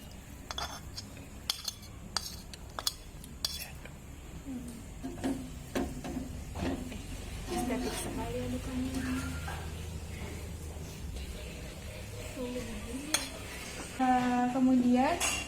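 Red ginger goes into a pot and gets stirred, with sharp metallic clinks of utensils against cookware early on, then softer scraping and stirring while people talk quietly nearby.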